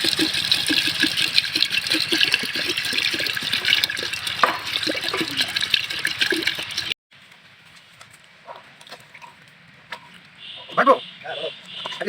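Water pours from a bottle into a pot of village-style chicken curry, a loud, steady splashing for about seven seconds, then stops, leaving quieter kitchen clatter and talking.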